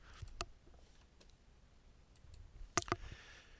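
Computer mouse clicks while working in ArcGIS GIS software, two crisp isolated clicks, one early and a quick double near the end, faint and close in a quiet room.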